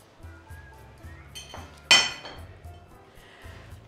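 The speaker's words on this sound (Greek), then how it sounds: "Προσθέτουμε σιγά σιγά στα στερεά και τα ανακατεύουμε" Liquid ingredients being poured into dry ones in a bowl and stirred by hand for a chocolate cake, with soft scraping, light clinks of utensil against the bowl, and one sharper clink near the middle. A faint low hum runs underneath.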